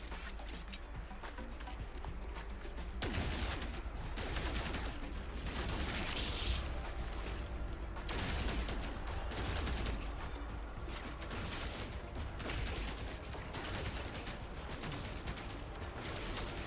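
Rapid bursts of gunfire from an alien-fighting sci-fi game, No Man's Sky, crackling in dense repeated volleys over a steady busy background, fairly loud throughout with brief pauses between strings of shots.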